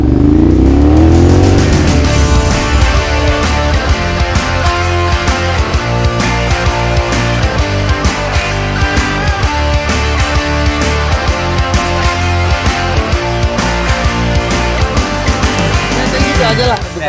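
A Ducati Monster 696 motorcycle revs up loud and close, its engine tone climbing at first and then holding a steady, strong drone for the rest of the stretch.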